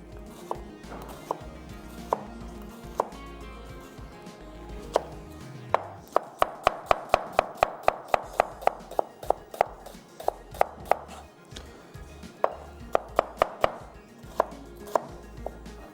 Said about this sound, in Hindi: प्याज को करना है फाइन चॉप।